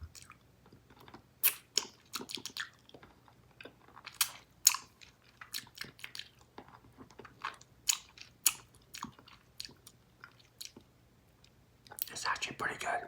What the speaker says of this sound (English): let's taste the lollipop and see how this is gonna taste